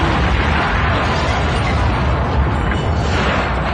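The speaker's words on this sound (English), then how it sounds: "but we got a bomb for you" A bomb explosion sound effect played on a radio talk show, a loud sustained roaring blast of dense rumbling noise that fills the whole moment without any speech.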